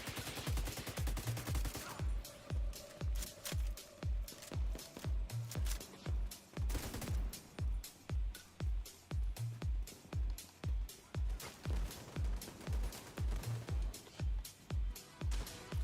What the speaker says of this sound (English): I like shooting all these fires.